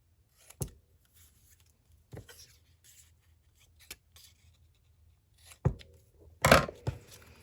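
Paper pieces from an Echo Park Our Baby 6x6 paper pad being cut for handmade baby cards: a handful of short, crisp snips spaced irregularly, close and fairly quiet, with a quick cluster of cuts near the end.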